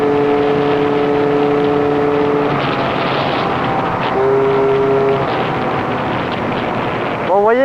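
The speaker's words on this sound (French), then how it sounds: "vous voyez quand même que le pot il envoie l'accélération quand même" A scooter exhaust roars as the rider accelerates, with steady engine tones rising and shifting in pitch under wind noise, ending on a sharp upward rev.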